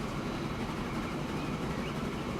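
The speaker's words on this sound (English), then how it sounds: "Probably wait for this train to go past." A steady, even rumble of a train rolling past in the 1920s era of the Transport Fever railway simulation, continuous and fairly loud with no voices over it.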